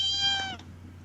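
A cat gives a single drawn-out meow, close and clear, over a steady low hum, tapering off after about half a second with no one talking.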